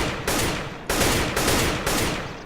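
Rapid gunfire in CS:GO sprayed while the player keeps moving, sounding as loud, dense bursts that run continuously across the clip with short breaks, close and alone with no voices.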